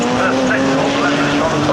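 Story Motorsport Ferrari 458 race car at Brands Hatch during a Britcar endurance race, a loud, continuous engine roar holding a high steady pitch as it passes, with a commentator talking over it.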